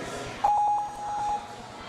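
A competition timer at a youth ninja warrior event gives a single steady electronic beep, loud and close, lasting about a second, with faint room noise around it.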